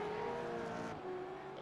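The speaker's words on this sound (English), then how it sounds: "I've just heard somebody off the track in the background" A V8 race car in a sim racing game at Okayama runs off the track into gravel, heard as a steady engine drone that drops slightly partway through and then carries on.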